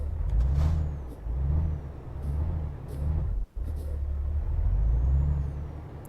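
A heavy truck in Euro Truck Simulator 2 backs up, its deep engine drone pulsing steadily with a hissing air release and a sudden brief cutout midway, no talking.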